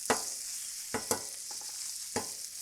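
Bacon sizzles with a steady hiss on a Blackstone griddle after being flipped, broken by a few soft taps and clicks of a utensil, quiet and with no voices.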